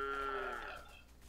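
A cow lets out one short, faint moo from some distance in an outdoor field, trailing off quickly.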